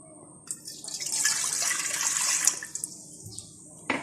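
Milk poured into a pan set over a flame, a close splashing, hissing pour lasting a couple of seconds and tapering off, followed by a brief clink.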